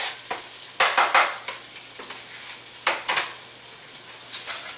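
Rough-chopped garlic sautés in olive oil in a pan, a soft steady sizzle broken by several sharper scraping stirs of a utensil against the pan, close and fairly loud with no talking.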